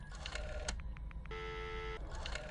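A phone is dialed in the Friday the 13th video game: a quick run of short electronic keypad beeps, followed by a steady, longer dial tone, playing alone over a faint background hum.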